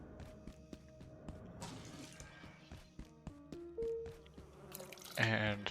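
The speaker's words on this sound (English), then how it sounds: "We can pour the water bottle into there." Water poured from a water bottle in a video game makes a run of faint drips and trickles, some scattered clicks and knocks, and a louder splashing gurgle near the end.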